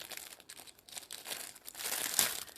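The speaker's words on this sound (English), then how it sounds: "I'm going to open my little packet that I get with these." Small plastic packet from a leather tote bag kit crinkling as it is torn open, a close, fairly quiet rustle with sharp tearing bursts near the end.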